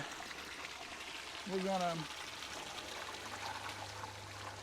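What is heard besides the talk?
water pouring into a fish tank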